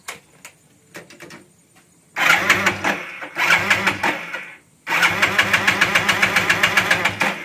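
A two-wheeler engine cranks over a few times and catches twice in bursts, dies, then fires again and settles into a close, loud, rhythmic idle chug.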